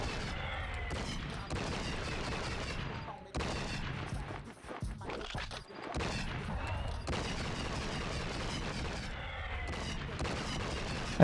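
Gunfire in True Crime: Streets of LA rattles in dense, sustained bursts, loud and close, pausing briefly midway before resuming.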